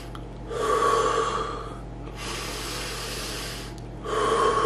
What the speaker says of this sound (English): I can still take deep breaths